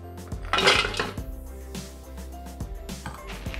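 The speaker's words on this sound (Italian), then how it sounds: "Iniziamo mettendo nel boccale il cioccolato fondente." Dark chocolate pieces drop into a Thermomix (Bimby) jug with clattering, clinking knocks, one louder burst followed by several lighter taps.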